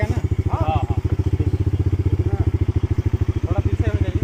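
A motorcycle engine idling close by with a fast, even thumping pulse throughout, while people talk over it.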